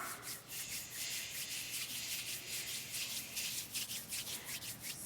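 Hands rub together in quick, rhythmic strokes, a close brushing swish that imitates footsteps along a grassy path, with no voices over it.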